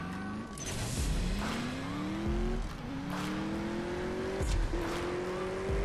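Cars race in the mobile game CSR2, engines revving hard with rising pitch through repeated gear shifts and brief tire squeals, loud and steady without speech.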